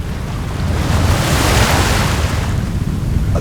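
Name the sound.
storm wind gust over ocean, audio drama effect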